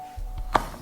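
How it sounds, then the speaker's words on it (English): A knife chops Lindt dark hazelnut chocolate on a chopping board, one sharp, close thunk over a low background hum. "Here I'm gonna be chopping up 2 of the Lindt dark hazelnut chocolate"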